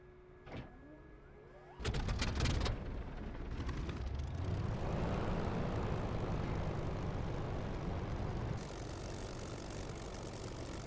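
Aircraft engine starting in War Thunder: a clicking starter whine, then a sputtering catch building into a steady loud propeller-engine drone that continues throughout.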